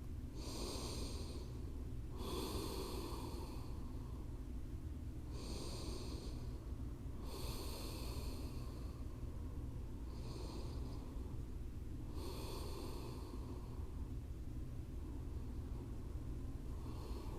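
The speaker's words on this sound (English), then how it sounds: "A few breaths in and out at your own pace." Slow, deep breathing during a restorative yoga session, close and audible, with about six long breaths spaced a couple of seconds apart over a low, steady background hum.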